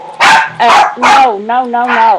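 A pet dog gives several loud close barks and yips in quick succession, mixed with a person speaking over them.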